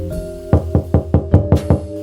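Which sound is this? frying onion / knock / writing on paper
knock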